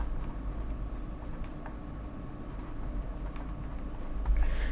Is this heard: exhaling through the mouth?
no